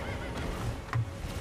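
A horse whinnies in Elden Ring amid battle noise, a brief neigh rising over a steady bed of ambient game sound with hoof-like clatter.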